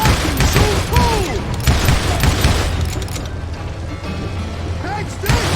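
Gunfire in the Western shooter Call of Juarez Gunslinger, several loud booming shots spread across a busy battle mix with ricochet whines, over game voices and background clamor.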